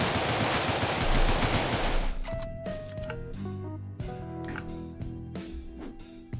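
Rapid automatic gunfire bursts from shooting enemies in the video game Deadbolt, dense and continuous at first, then giving way to clipped shots, metallic clicks and tonal game effects.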